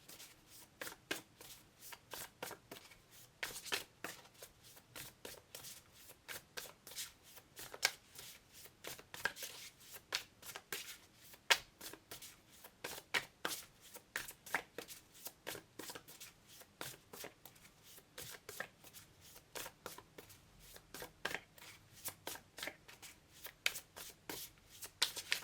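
A tarot guidance card deck shuffled steadily by hand, a long run of rapid, close, crisp card flicks and riffles in a dense repeating rhythm, with no voices.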